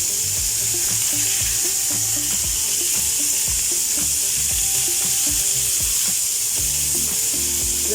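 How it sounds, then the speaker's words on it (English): Chicken pieces sizzle in a hot pan, giving a continuous loud frying hiss with crackling while rhythmic clattering sounds from something moving in the pan, and no one speaks. "We will fry each side for 2 minutes, and then we will turn it."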